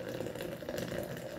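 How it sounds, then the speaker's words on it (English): Freshly boiled water poured from a kettle for Arabica coffee, a steady close gurgling splash that runs unbroken, quiet and alone. "Here I am now pouring the boiled water"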